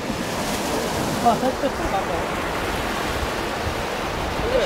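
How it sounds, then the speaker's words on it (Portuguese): Ocean surf washing steadily onto a beach, a dense continuous roar of breaking waves mixed with wind buffeting the microphone, with no clear talking over it. "Olha a onda."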